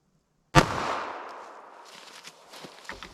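A pocket pistol fires a single Sellier and Bellot .380 ACP full metal jacket round, a sharp, loud close crack followed by a decaying echo and faint handling noise.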